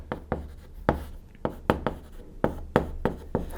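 Writing math on a board during a calculus lesson: crisp, distinct taps and short strokes of chalk or marker, about a dozen spaced irregularly, close and clear with no voice.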